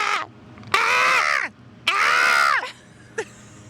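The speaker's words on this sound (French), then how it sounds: "Oh la corneille." A crow gives two long, loud, harsh caws close by, then a brief softer call follows, with no talking over them.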